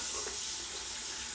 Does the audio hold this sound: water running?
yes